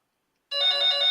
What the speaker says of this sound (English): Some phone is ringing.